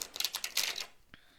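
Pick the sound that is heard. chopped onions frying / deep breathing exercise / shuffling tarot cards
shuffling tarot cards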